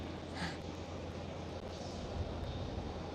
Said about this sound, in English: the KLM Cityhopper SkyTeam livery, it's at E190 as well, is going